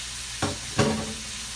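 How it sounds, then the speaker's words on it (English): Pork chops sizzle in a preheated pan, steady and close, with two brief bumps of movement or stirring over the frying hiss. "Now that I got the pork chops in there, I'm going to turn the heat down"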